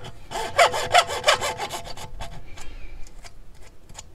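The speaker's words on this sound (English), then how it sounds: "I'm gonna cut vertically the tube up to the union" A hand saw cuts lengthwise down a PVC pipe toward a union fitting, rasping in quick regular strokes that are strong at first, then thin out into lighter, scattered scrapes. The sound is close and stands alone.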